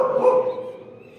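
Jimmy's newborn puppies on a farm, a single short, thin yip that fades out quickly, close and fairly loud, with no talking.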